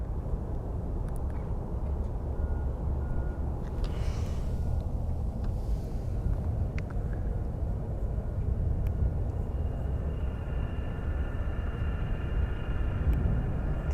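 Airplanes taxiing at Phoenix Sky Harbor airport, heard as a steady low jet rumble and broad engine roar that holds at an even level throughout, with a faint whine on top and no talking.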